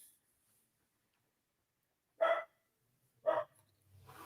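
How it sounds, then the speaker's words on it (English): A dog gives two sharp separate barks about a second apart, clear against near silence, with faint low rumble at the end. "What the dog doing?"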